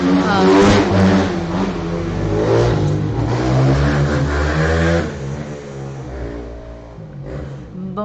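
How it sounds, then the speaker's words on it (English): Motor vehicles, probably motorcycles, roll past on a road in Makaha, Hawaii, with a loud sustained engine drone that rises and swells over the first five seconds, then fades as the machines move away, under an ongoing background of voices. "Motorcycles rolling by is a regular thing."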